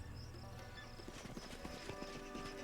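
Horse hooves clip-clopping in the fantasy video game Pathfinder: Kingmaker, a steady run of soft clattering steps over a low ambient game soundtrack, no talking.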